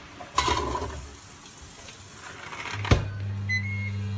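A Ninja Foodi multifunction electric pot cooking oiled fries: a lid thuds shut, a sharp click follows, then a steady low appliance hum starts with a short electronic beep.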